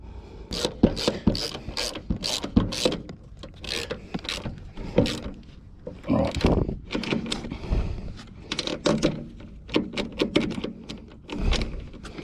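A ratchet wrench clicks rapidly while tightening a nut on a Cheetah ride-on mower with a Briggs and Stratton engine. Bursts of close metallic ratcheting come with brief pauses and clanks of the tool, and no voice is heard.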